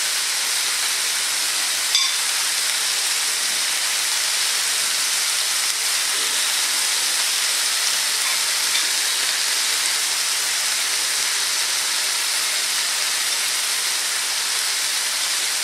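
Beef kabobs browning in a hot pan give off a steady, loud, even sizzle that carries on without a break, with no voices over it.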